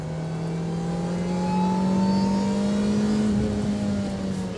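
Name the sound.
sports car engine revving on track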